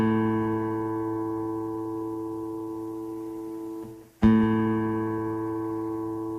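A steady electronic reference tone for the guitar's fifth string, the note A, holds for about four seconds, breaks off briefly, then sounds again at full strength and slowly fades.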